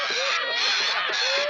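A crow-like bird cawing in a 1979 film, harsh rasping calls repeated close up and loud, filling a short stretch.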